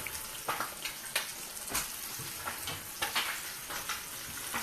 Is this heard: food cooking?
yes